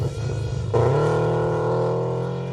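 The black and white cookie rally car drives through an Oregon Trail Rally stage, its engine surging suddenly into a steady, strong drone close by before easing off slightly.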